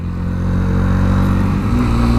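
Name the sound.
Sinnis RSX125 single-cylinder motorcycle engine running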